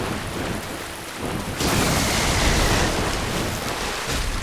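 Enemy lightning attack in Dark Souls, a loud crackling burst that surges about a third of the way in and roars on like a storm, with no talk over it.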